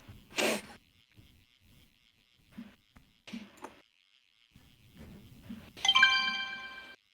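A phone notification chime rings out near the end as a short series of bright, clear tones, after scattered soft knocks, thumps and faint game noises in a WebFishing session.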